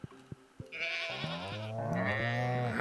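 Barn animals in the Stardew Valley video game bleat in clear, tonal game-audio calls, first a few short taps, then overlapping drawn-out bleats that grow louder and fuller toward the end, with no talking.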